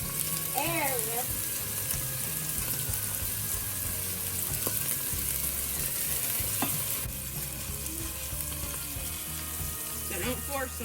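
Meatballs sear in a hot frying pan, giving a steady, close sizzle with occasional light clinks and stirring sounds throughout.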